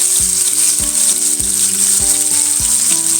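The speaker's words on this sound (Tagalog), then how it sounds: "hintayin natin maprito yung kabilang side" Thick talakitok fish fillets sizzle steadily in hot oil in a covered pan for bistek Tagalog, a loud constant hiss broken by several low thumps as the lid or pan shifts.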